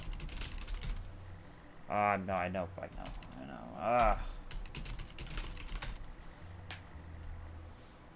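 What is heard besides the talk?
computer keyboard typing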